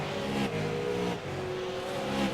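Race cars circle the USA Speedway oval in a SARA Button Box Shop Super Series race, engines roaring loud and close in a continuous high-revving drone with shifting pitch as they pass.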